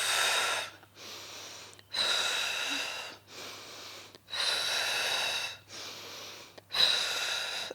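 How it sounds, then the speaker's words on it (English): Slow, deep breaths in and out during a Pilates mat exercise, each breath a loud airy rush separated by brief pauses, repeating about six times close to the microphone. "Breathe in and out."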